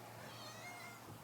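A cat named Oreo meows, a faint drawn-out call with no one talking over it.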